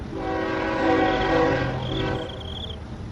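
A train rumbles steadily along railway tracks, with a sustained horn tone sounding over the rolling noise and growing louder as it draws near.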